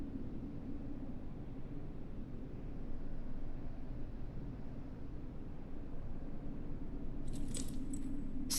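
In the video game Martha Is Dead, a short bright jingle of keys rings out near the end, following a long stretch of steady low droning background noise with no speech.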